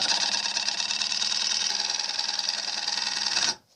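Milling machine cutting a wedge into wood, running without a dust extractor, a steady loud whine that holds evenly for about three and a half seconds before stopping abruptly.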